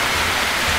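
Steady rain falling on a mountain, a dense, even hiss of drops filling the space without break, close and fairly loud, with no talk.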